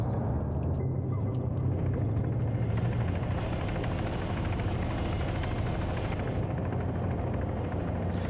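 Taru heavy-lift helicopter in the Arma military game, a loud steady rotor and turbine roar with deep low thumping that holds constant throughout, close and dominant with no voices.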